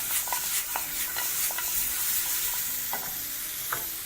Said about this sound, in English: Proceed to toss very, very lightly in the pan.